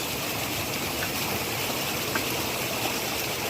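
A tiny runoff creek flows steadily beside moss among bedrock and gravels, a continuous close trickle and gurgle of shallow water with no talk over it.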